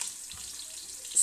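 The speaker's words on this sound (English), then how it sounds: "Now as the onion is browning" Onion browning in a pan for spicy lamb chops gives a steady, fairly quiet hiss that holds through the whole moment, with a small bump near the end.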